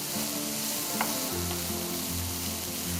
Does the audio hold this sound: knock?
no